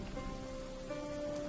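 Rain falls in the video game Dwarf Fortress as a steady hiss of drops on a surface, with a faint tone held underneath throughout the short stretch.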